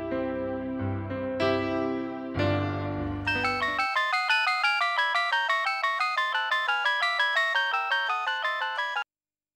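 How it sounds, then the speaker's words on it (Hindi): A phone ringtone plays as an outgoing call connects, opening with a few sustained melodic tones, then a long run of evenly spaced, bright repeating ring pulses, loud and alone with no talking. "संदेश को फोन करके पता करता हूं।"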